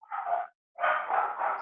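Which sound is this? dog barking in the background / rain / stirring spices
dog barking in the background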